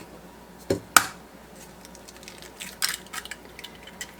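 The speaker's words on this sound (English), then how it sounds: "I'm going to crack my eggs in a separate bowl over here because they're my eggs from my hens" Fresh hen eggs cracked into a separate bowl, with two or three sharp, brief taps and cracks close by in a quiet kitchen, followed by a faint soft drip.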